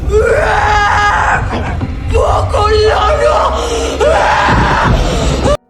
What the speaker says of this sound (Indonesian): Iblis yang merasuki Intan terus saja berteriak ketakutan dengan kehadiran sosok Bokolono ini